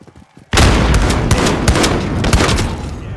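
Dense burst of video game gunfire erupts abruptly after a quiet start, with rapid overlapping shots and sharp cracks sustained loudly to the end.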